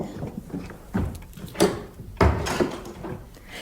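A door swings and shuts in a house, several dull thuds and rattles spread over a few seconds, near and moderately loud in a quiet room.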